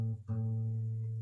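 A guitar note is plucked on the 5th fret of the thickest string. It rings as a clear sustained tone with strong harmonics after a brief dip at the attack, quiet and alone.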